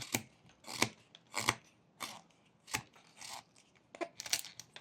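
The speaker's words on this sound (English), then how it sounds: "we can remove some of the wood from below the snout by creating a V cut" A whittling knife cuts a V notch below the snout of a small wooden bear carving, giving a series of crisp, close, scraping slices in an uneven rhythm with short pauses between strokes.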